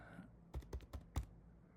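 Four quiet, separate keystrokes on a computer keyboard, tapped at an uneven pace, with no voices.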